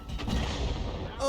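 An artillery shot fires in a tank video game: a loud, heavy boom that rolls into a sustained rumbling roar and broad noise wash lasting over a second, ending with a fresh sharp onset.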